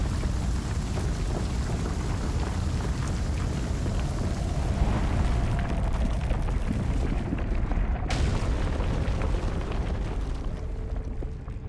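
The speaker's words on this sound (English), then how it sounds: "invade a greed mother portal with a bomb and destroy" A bomb blowing up a greed portal in Kingdom Two Crowns, heard as a long, loud rumbling roar with crackling debris throughout, easing briefly near the end.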